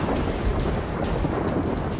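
Storm at sea battering a small fiberglass boat named Big Eye at night: a continuous loud roar of wind and crashing water fills the scene, with low rumbling surges that could be distant thunder.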